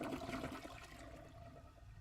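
A toilet flush is played as a sound effect on a live stream, a steady rushing gurgle of water that fills the whole moment and tapers slightly, with no talking over it.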